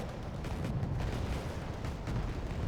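Smoke rounds fired in the wargame Wargame Red Dragon, heard as a dense, continuous low rumble of distant artillery with a steady roll and no clear individual shots.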